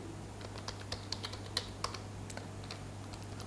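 Code being typed on a computer keyboard, light irregular key clicks in quick bursts with a few sharper taps, close and fairly quiet over a steady low hum.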